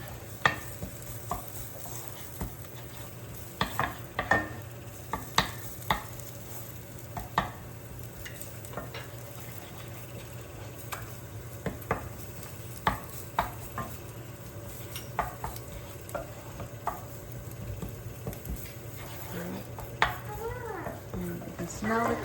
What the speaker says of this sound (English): cook it in the oil to bring out the flavor and the fragrance of the curry paste